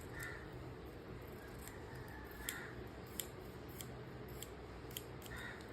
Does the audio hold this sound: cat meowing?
no